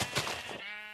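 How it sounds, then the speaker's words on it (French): A single sheep bleats once in a video game, a short close wavering call heard alone. "Oh oui, des moutons!"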